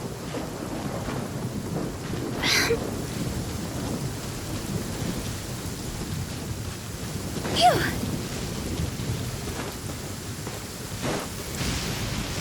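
Thunder from a storm in Genshin Impact rumbles under steady rain, with two sharp cracks a few seconds apart and a fainter third near the end, all at moderate loudness with no clear speech.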